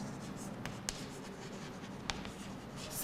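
Writing on a board during a physics class, soft scratchy strokes with a few sharp taps against a quiet room background.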